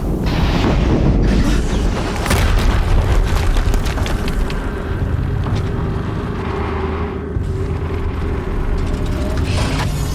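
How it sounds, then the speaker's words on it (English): Explosions in the video game Horizon Zero Dawn: loud, close booms and bursts over a heavy, continuous rumble, with crackling debris that carries on through most of the stretch and no talking. "Another explosion."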